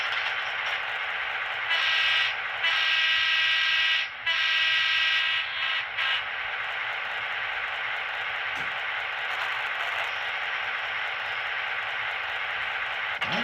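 Horn 1 of a Broadway Limited N scale ACL E7 model locomotive sounds as a loud, steady multi-tone electronic horn with two blasts and brief breaks, over continuous engine sound from the sound-equipped model.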